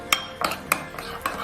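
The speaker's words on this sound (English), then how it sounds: "But we'll give all that a good stir." A metal spoon stirs chili powder into a dish in a pot, four or five distinct scraping clinks in an uneven rhythm, close and fairly soft, with no talking.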